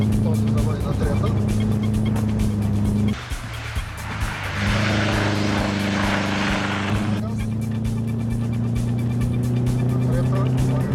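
Rally car engine revving hard at full throttle through gear changes from third to fourth and back on a rally school course, strong steady harmonic drone with a brief dip midway, under an instructor's talk.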